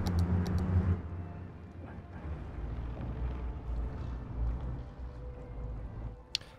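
Road traffic in the city-building game Cities: Skylines makes a steady low rumble of many vehicles, a continuous murmuring drone with no distinct passes, heard alone at moderate level.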